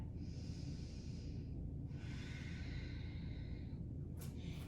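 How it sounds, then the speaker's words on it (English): Slow, deep breaths during a yoga session: two long airy inhales or exhales close to the mic, each lasting over a second, followed by a brief sharper breath at the end over steady low room noise. "take a deep breath"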